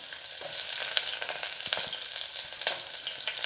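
Sliced large onion fries in oil with cinnamon and clove, giving a steady close sizzle dotted with sharp crackles and occasional stirring scrapes, with no talking.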